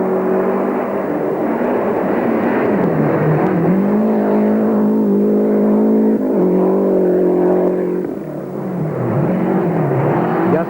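Lancia Delta Integrale rally cars race along a stage of the 1990 Jyväskylä rally, their loud engines droning and revving continuously with shifting pitch as they pass close by, briefly easing before surging again.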